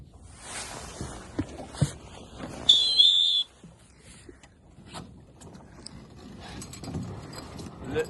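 A single shrill whistle blast rings out for a tack during light-wind sailing practice, lasting under a second amid soft water, rigging creaks and faint voices.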